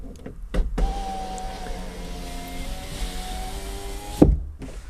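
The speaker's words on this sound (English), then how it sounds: "I can make the window operate." A Toyota Land Cruiser power window motor run on direct slave power whirs steadily for a few seconds, close and clear, ending with a thunk as the glass stops, no talking.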